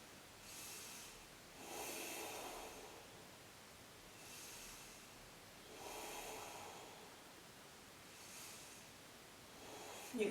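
Slow, deep breathing while holding a yoga pose: five soft, evenly spaced breaths, each a hushed airy rush, close and quiet with no talk.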